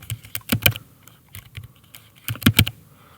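Someone types the word computer on a computer keyboard, giving two quick clusters of close, crisp key clicks separated by a brief pause, in a quiet room without speech.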